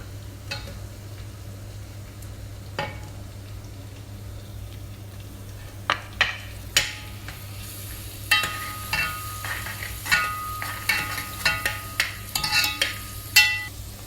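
Onions fry in a pan for a mushroom biryani under a steady low sizzle, with close utensil clicks and scraping stirs that start sparse and grow more frequent toward the end.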